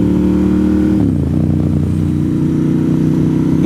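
Motorcycle engine running steadily while riding, a loud continuous mid-pitched drone with a brief dip in revs then settling into an even hum with wind noise.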